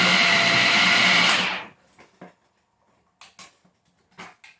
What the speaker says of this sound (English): this mixer was bought reconditioned, and it's performed very well